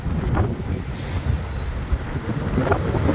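Steady wind buffets a microphone outdoors near a freight train, a loud continuous rumble with gusty swells rising and falling throughout, close and alone.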